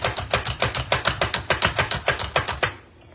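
A Pampered Chef hand chopper chops food in a quick, steady run of about seventeen sharp plunging clacks, close and clear, before stopping abruptly.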